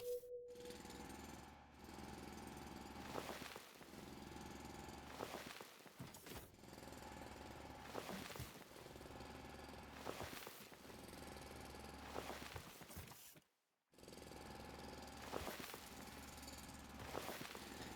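Steady grinding drill cutting into stone in the video game Foundry, a loud continuous machine drone with low rumble, broken by short pauses and a brief silent gap near the end.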